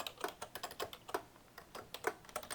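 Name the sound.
typing on a computer keyboard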